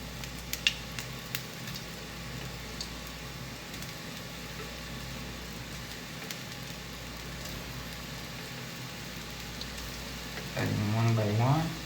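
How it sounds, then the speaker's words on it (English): Gnocchi caramelize in hot butter in a pan, giving a soft, even sizzle that runs steadily for many seconds, and a voice starts speaking near the end. "I'm gonna start caramelizing my gnocchi."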